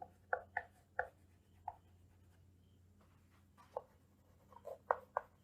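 A pen or chalk scratches out notes for a chemistry lesson in short, irregular strokes, each a brief close scrape with pauses between, over a low hum and no talking.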